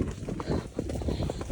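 Hooves of horses clip-clopping along on a hack, a steady uneven patter of soft thuds with voices talking in the background.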